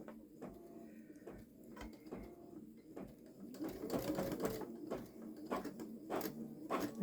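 A Baby Lock Solaris Vision embroidery machine sews very long stitches, producing quiet rhythmic mechanical thumps and whirring bursts at an irregular pace, growing a little busier and louder toward the end.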